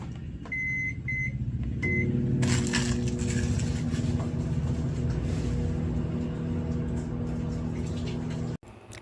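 A microwave oven heating popcorn: a few keypad beeps, then a steady low electrical hum with a mechanical whir that runs for several seconds before cutting off abruptly.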